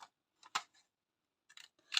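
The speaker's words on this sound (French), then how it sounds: "On va couper des petits ronds." Scissors snipping small circles out of scrap paper for handmade cards, a few short, crisp cuts in quiet surroundings, separated by brief pauses.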